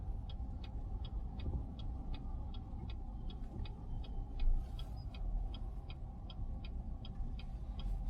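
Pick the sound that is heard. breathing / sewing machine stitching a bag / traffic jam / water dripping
traffic jam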